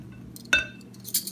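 Olive oil dressing being stirred in a bowl, with one sharp clink of a utensil against the bowl and then softer scraping and tapping sounds close by.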